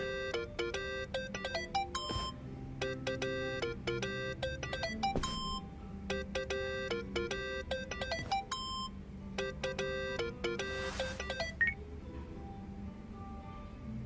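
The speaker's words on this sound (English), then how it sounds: "Think that's your phone, man." A phone in Yakuza: Like a Dragon rings with a repeating electronic melody of bright beeping tones in steady bursts, fairly quiet over a low background, with no talk.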